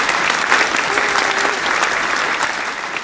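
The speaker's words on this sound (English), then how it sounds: "Usually at this point we have wild clapping, which I will insert here through the magic of technology." Wild applause dropped in as a sound effect after a talk about Hollidaysburg cemeteries, dense continuous clapping from a large crowd at a constant loud level.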